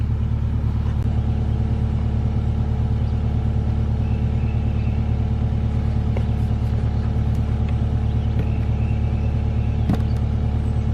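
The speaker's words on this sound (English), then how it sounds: "Saw's cutting more" Chainsaw with a round-file chain cutting into a heavy back-leaning oak in tight quarters, a steady loud engine drone running throughout with no pauses.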